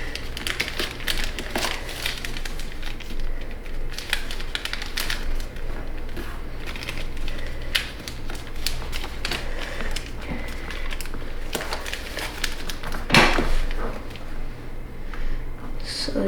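Origami paper being folded into a paper fighter jet: close, dry crinkling and soft paper creases run steadily with a few sharper rustles, over a faint low background hum.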